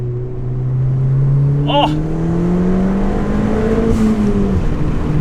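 A Ford Fiesta ST hot hatch with a 1.6 litre turbo engine and front-wheel drive accelerates hard, a loud, steady engine drone rising in pitch through the revs from inside the car, with a brief exclaimed voice.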